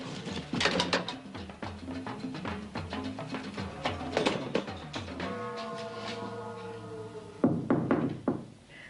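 Knocking on a door in a 1970s British comedy film, a handful of taps amid a busy scene with music and layered background sound.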